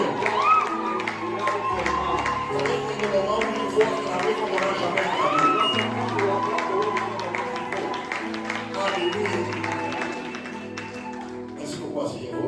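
A wedding congregation cheers and acclaims, a crowd of voices and clapping that keeps a lively, continuous swell under speech and music throughout.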